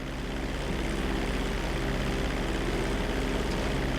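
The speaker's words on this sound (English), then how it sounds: "Hold the throttle all the way down to pick up speed, and pull back on the stick to take off" Propeller airplane engine in GTA 5 flight school, a steady loud drone at full throttle during takeoff, constant and close throughout with no talk.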